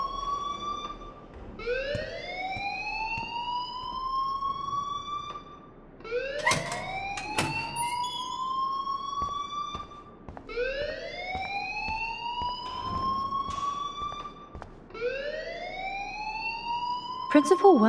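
A school alarm in the Life Is Strange video game rises in repeated swooping siren-like wails, four cycles in a row, loud and continuous with brief voices and thumps mixed in.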